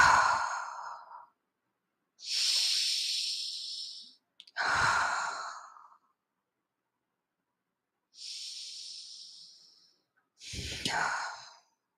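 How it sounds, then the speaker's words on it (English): Three deep, forceful breaths, each drawn in through the nose and pushed out through the mouth, the exhales fuller and breathier, close and alone in a quiet room with silent pauses between them. "take 3 deep breaths in through the nose and out through the mouth, a little bit forcefully"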